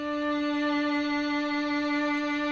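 A single violin D note in third position, bowed as one steady, sustained tone with rich overtones, clear and alone for the whole stretch.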